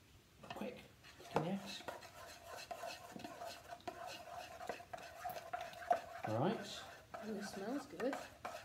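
A spoon scrapes and clinks against a pan while a butter mixture is stirred, making irregular soft knocks and rubbing strokes at close range, with quiet talk in the background.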